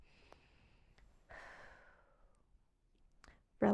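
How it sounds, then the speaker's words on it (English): A slow, deep breath drawn in and let out as a soft sigh, close and quiet, with faint rustles before and a louder bump at the end; no talking. "And then we can even take a deep breath."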